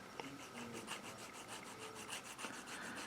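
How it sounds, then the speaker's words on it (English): Close, steady rasping of a small file smoothing the sprue connection points on a plastic model ship part, a rapid run of short back-and-forth strokes with no talk. "so just kind of file it down so it looks smooth"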